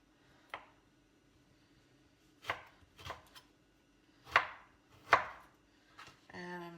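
A knife slices a lemon on a cutting board in several separate, sharp cuts with uneven gaps, each a crisp thud against a quiet kitchen, ending in a brief rattling scrape.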